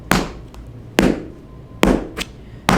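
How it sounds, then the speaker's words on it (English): Tap shoe toe digs strike a floor, four or five sharp, loud, separate clicks at uneven intervals, each with a short ringing decay, with no voices. "Another way to use the toe tap is to actually dig the toe back"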